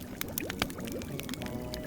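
Crystal clear water poured from a pot in a video game, a short gurgling pour with splashy bursts, close and steady.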